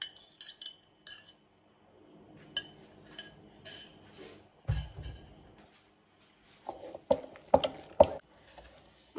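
A spoon or whisk beats eggs into thick churro dough in a mixing bowl, giving irregular clinks and scrapes against the bowl. A soft low thump comes midway and a few sharper knocks near the end, with no one talking.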